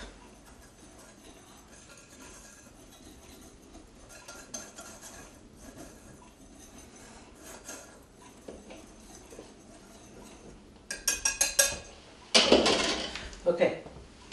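Cocoa and batter ingredients are stirred in a bowl, a quiet scraping that builds into brisk clinking and rattling of utensil against the bowl near the end, close and alone.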